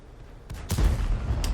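In a tank video game, a cannon round strikes a tank with a heavy, booming impact, followed by further sharp blasts and a low rumble, all close and loud.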